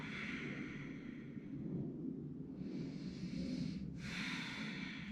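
Slow, deep breaths during a powerful intermediate yoga flow, a steady airy rush of inhaling and exhaling close to the mic with a low background hum and no talking.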